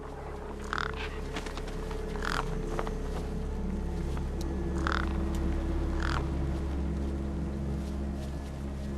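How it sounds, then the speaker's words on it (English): Crows caw in the video game Beyond a Steel Sky, several sharp calls spaced a second or two apart over a steady low ambient hum, moderately loud and with no talking. "No way I was going to get between those birds and their feast."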